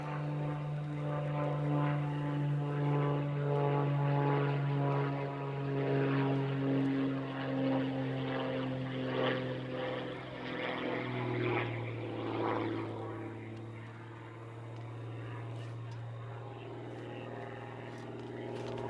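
A propeller aerobatic airplane at a national aerobatic championship climbs into a hammerhead turn, its engine droning at a distance with shifting pitch that rises and falls as power changes through the figure.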